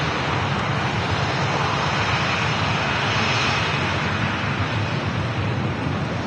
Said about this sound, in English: Just idle reverse being used by the Boeing heavy airliner.